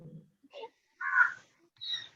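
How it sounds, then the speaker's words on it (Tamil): A crow caws nearby in a few short, harsh calls separated by brief pauses, mixed with faint voices in a quiet setting. "காக்காவும் பாடுது."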